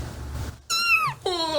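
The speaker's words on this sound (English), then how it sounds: "That's a kitten." Recorded kitten meows come in two loud, close, high-pitched cries, the first a long falling mew and the second starting just after it, following a brief low murmur.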